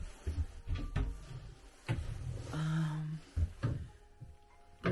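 Old wooden drawers in an abandoned farmhouse being pulled open and pushed shut, several close, loud knocks and scrapes with a drawn-out squeak in the middle.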